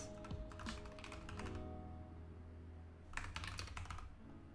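Steady keyboard typing close by, with bursts of rapid keystrokes that pause briefly and resume over a low background hum, no voices.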